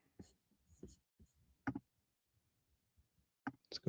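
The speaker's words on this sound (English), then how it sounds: "Just bear with me for a minute while I kind of click." Sparse, quiet clicks from a computer mouse come in small irregular bursts against near silence, with faint soft handling noises between them.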